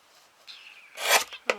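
Scissors snip paper for a small handmade junk journal, a soft short sliding cut followed by a sharper snap, close and quiet in an otherwise still room.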